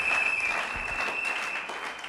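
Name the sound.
congregation applauding in church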